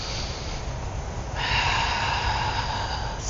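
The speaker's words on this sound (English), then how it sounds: "just a deep breath here" A deep, audible breath drawn in through the nose during a qi gong exercise, a close, airy inhale with a sharper rush of air partway through, alone without speech.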